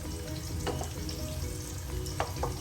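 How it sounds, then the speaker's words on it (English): Asafoetida and cumin seeds sizzle in hot sunflower oil in a pan for an okra and onion dish, a steady low frying hiss with a few soft stirring scrapes and no voices. "So I've added asafoetida and cumin seeds to the oil."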